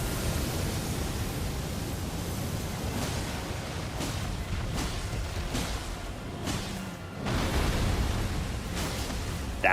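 A dragon's breath attack in Elden Ring, in the Liurnia of the Lake area, comes as a sustained, roaring rush of noisy energy that fills the whole clip, with brief louder surges near the end.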